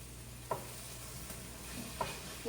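Garlic sizzles in a pan with a steady frying hiss, broken by a couple of sharp clinks of a utensil stirring against the cookware.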